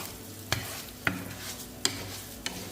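Onion frying in a pan while rice toasts for stuffed peppers, a soft continuous sizzle broken by four sharp stirring knocks spaced about half a second apart.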